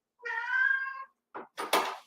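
A female house cat meows in a long drawn-out wail while crouched in a corner on the floor by a door, followed by two shorter, rougher cries, all fairly close and loud, with no talking.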